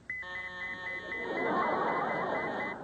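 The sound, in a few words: alarm beeping from a joke fat detector gadget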